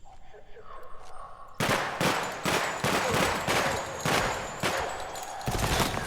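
Rapid bursts of gunfire from the video game Project Silverfish, loud repeated volleys of shots in an irregular rhythm after a quieter opening stretch of game ambience.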